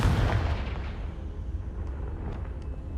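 A Confringo fire spell in Hogwarts Legacy goes off with a heavy explosive boom at the start. Low rumbling crackle lingers afterward, with a few faint high pings.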